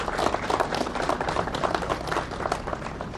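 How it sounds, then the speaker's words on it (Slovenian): An audience applauds at the opening of renovated rooms, giving steady, moderately distant clapping throughout with no break. "Pa jim zaploskajmo"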